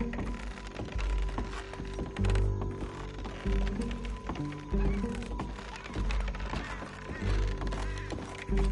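Horse hooves clatter in a quick, uneven clip-clop rhythm across wooden bridges in Red Dead Redemption 2, hollow woody thuds repeating close and loud with a constant low background rumble and no voices.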